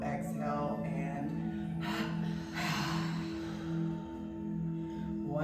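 Strong, quick double exhales forced through the nose during power breath yoga, several sharp puffs in a loose rhythm over a steady background hum, close and without talk.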